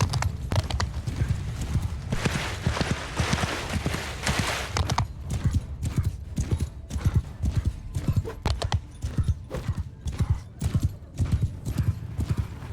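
Horse hooves gallop steadily in the Mount and Blade II Bannerlord game as a mounted rider pushes ahead of an army, a dense rhythmic clip-clop that runs throughout, with scattered battle noise and a faint whinny.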